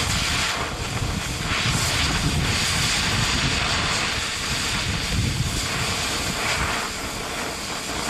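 An oxy-acetylene cutting torch roars with a loud, continuous hiss and rushing flame as it slices through a rusted bolt head, steady and close throughout.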